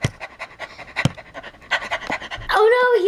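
Fire Bone Hot Dog, a dog from Skylanders SWAP Force, pants in quick, loud, rhythmic breaths close up, ending in a brief squeal.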